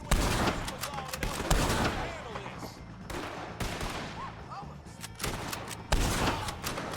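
Dense gunfire in a Red Dead Redemption 2 shootout against O'Driscolls, with rapid overlapping shots and rumbling bursts that continue throughout, and voices shouting underneath.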